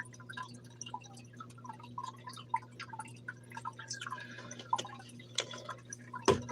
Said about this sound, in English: I'm going to have some more water.